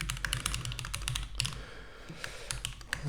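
Steady typing on a computer keyboard while writing Apex code, quick irregular key clicks in bursts, fairly close and quiet, no talking.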